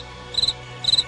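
A cricket chirps twice in quick succession, each chirp a short, bright trill of rapid pulses, with a quiet gap between them against a faint background.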